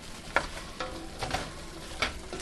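Vegetables tossed into a hot pan with chicken while cooking a creamy chicken pasta primavera, giving a steady sizzle with a few sharp clatters and stirring scrapes, close and moderately quiet, with no talking.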